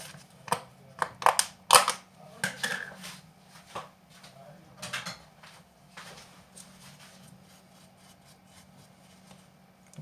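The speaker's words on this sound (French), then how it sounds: "Et on mélange." Diet chocolate cake batter sweetened with maple syrup and flavoured with vanilla is stirred in a bowl, making soft irregular scraping and clinking strokes, louder at first and then quieter and sparser, with no talk.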